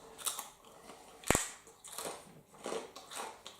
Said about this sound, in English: no, don't eat crunchy pork rinds